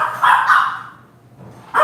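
A dog named Rex barks loudly and close by, two quick barks followed by a pause and then the start of another bark, with no talking.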